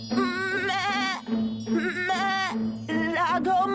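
A cartoon goat bleats in a Hindi village story, a loud, wavering, voice-like cry repeated in three drawn-out calls with no pause for other sound.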